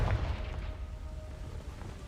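A Confringo fire spell blasts in Hogwarts Legacy, a heavy low boom at the start that rolls into a rumbling tail, with no voice over it.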